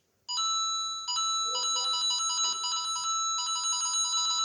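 Bright, chiming Super Mario Bros tune from a browser version of the game, playing loud and steady as a looping melody of bell-like notes with no talking over it.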